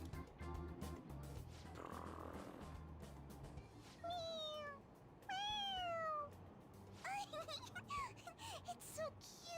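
A cat in Persona 5 Royal gives a series of high, sliding meows, some stacked close together, set over background game music and ambience.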